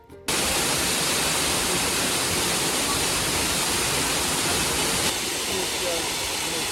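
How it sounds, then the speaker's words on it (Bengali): Cold water spray falls from a fountain at Schönbrunn Palace, a loud, dense, continuous hiss of splashing water that starts abruptly and holds steady, up close and without a break. "এই গরমের মধ্যে ওই ঠান্ডা ঠান্ডা জলের ছিটাফোঁটা পড়ছে"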